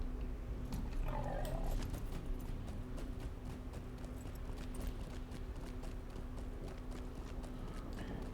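Horse hooves clip-clop steadily at riding pace in Lord of the Rings Online, a continuous rhythmic trot under a low ambient hum, fairly close and moderately loud throughout.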